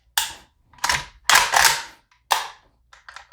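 Sharp mechanical clicks and snaps from a PSAK-47 GF4 AK-pattern rifle, made by Palmetto State Armory, during a function check after reassembly: six loud, close, separate metallic clacks, followed by a faint, quicker rattle of small clicks.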